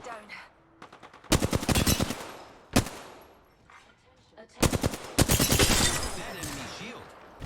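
Automatic gunfire in a shooter video game rattles in long, loud bursts separated by a single sharp shot and brief quieter gaps.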